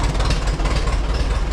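A 1952 Allis Chalmers WD tractor engine runs close by with a steady, loud, low chugging throb and a rapid rhythmic pulse throughout.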